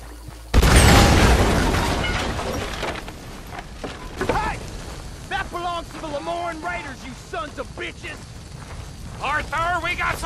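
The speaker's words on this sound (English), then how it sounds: "Hodíme ďalší dynamit, chlapče." A dynamite blast in Red Dead Redemption 2 bursts out as one loud, sudden boom, then a long rumbling decay with crackling debris, while someone talks over the fading noise.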